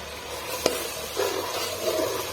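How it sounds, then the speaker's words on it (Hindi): Ground onions and masala fry in a pot as a spoon stirs them, a soft continuous sizzle broken by a single sharp knock and a few scraping strokes. "ये उल्टे हाथ से मैं चमचा चला रही हूँ।"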